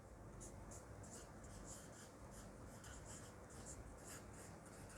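Chalk or marker writing on a board, faint continuous scratchy strokes in quiet rhythmic bursts.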